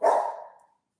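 A single loud dog bark, close and sharp, tails off quickly into silence.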